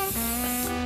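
Non-stick baking spray hisses steadily onto baking paper lining a pan, a close, continuous aerosol spray held for under a second.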